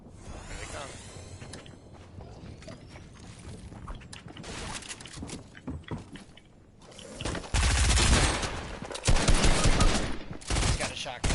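Gunfire in the Fortnite video game, a player's shotgun blasts among repeated sharp shots that grow louder and denser in the second half, with scattered movement noises between.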